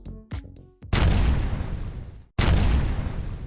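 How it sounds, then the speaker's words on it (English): Two massive, roaring dynamite blasts muffled by sandbags boom close and loud, each a broad rumbling burst, separated by a brief silence after a few faint knocks. "brought sandbags to muffle the sound of the explosion and direct it downwards"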